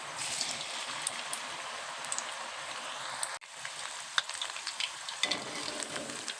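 Potato pakodas fry in hot oil, a dense, continuous sizzle and crackle with scattered pops, close and steady throughout, no speech.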